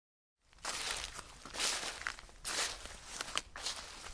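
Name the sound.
footsteps sound effect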